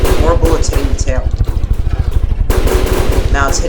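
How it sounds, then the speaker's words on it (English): Loud, continuous machine gun fire in From The Depths as bullets hammer a plane's tail, a fast even rattle of heavy shots running the whole way, with a voice talking over it. "More bullets hitting the tail."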